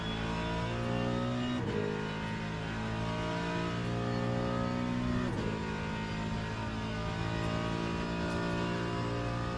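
A GT3 race car engine in Le Mans Ultimate, droning loud and steady at high revs with a couple of brief dips at gear shifts, heard alone.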